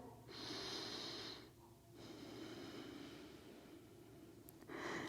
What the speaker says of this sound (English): Breathe in and out.